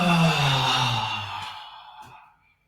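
A long, deep exhale while stretching starts loud and close, then gradually fades out over a couple of seconds and ends in quiet.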